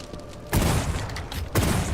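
Shotgun blasts spraying pellets in the video game Wrath: Aeon of Ruin, two sharp booming shots about a second apart, each a loud broadband burst over a low background rumble.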